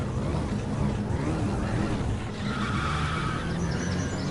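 A Nissan Skyline launching in a Gran Turismo drag race: a continuous loud engine roar with tire noise that holds steady the whole time, followed by a rising whine.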